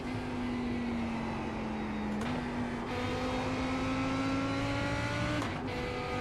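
A GT3 race car engine in the iRacing game revs hard at Suzuka, holding a steady loud drone with quick gear-shift dips as it climbs through the revs, with no voices.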